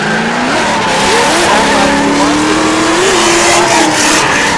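A Formula Drift ProAM car slides sideways through a corner at Sebring Raceway, tires squealing in long wavering screeches over a loud, revving engine roar that holds steady throughout, close and intense with no voices.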